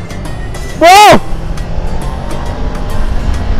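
A big Honda motorcycle pulls hard during a test ride, giving a loud, steady rush of engine and wind noise. A man gives one short excited shout over it.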